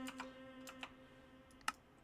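A number typed on a computer keyboard: a few light, scattered key clicks over a faint steady hum, quiet and close.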